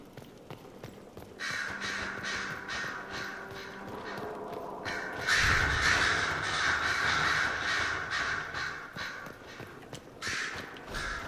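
Several crows caw repeatedly in the fantasy game Dragon Age Inquisition, harsh calls overlapping in bursts over a steady ambient backdrop, fairly loud and without any talking.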